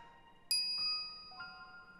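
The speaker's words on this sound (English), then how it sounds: "As I walk into the lab, I'm greeted by the chiming of a microwave oven." A microwave oven in the visual novel Steins;Gate gives a soft electronic chime of a few bright ringing tones that decay slowly over a quiet hum.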